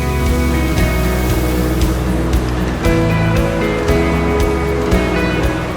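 Small waterfall in Haveli, Azad Kashmir, giving a loud, steady rushing roar of falling water that fills the whole stretch, with faint tonal hums underneath.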